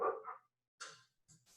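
A pet dog at home gives a few short, sharp barks and yips with pauses between them, fairly faint and alone, with no talking over it.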